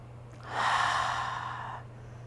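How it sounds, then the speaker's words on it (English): A slow, deep breath in and out during a gentle knee-alignment stretching session, a soft airy exhale that swells and fades over about a second, close and alone over a low steady hum. "One more nice deep breath in and out."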